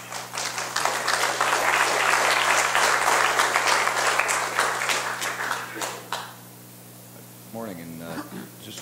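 An audience applauds to welcome panelists at a panel event, with steady, full clapping that holds for several seconds and then fades out before a voice speaks briefly.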